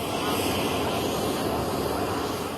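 An Indian Air Force C-17 transport aircraft at Hindan Air Base, Ghaziabad, gives off a steady, loud, broadband engine roar that holds even throughout without voices.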